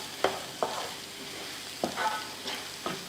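Egg keema fry with coriander leaves and curry leaves being stirred in a pan, a few distinct scraping strokes of a spoon against the pan over a soft, steady sizzle, close and fairly quiet with no talking.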